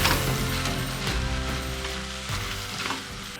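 A stir fry dressed with sriracha sizzles loudly in a pan while being mixed, a dense continuous hiss with low clatter from the stirring, cooked outdoors at a campsite on the Mojave Road.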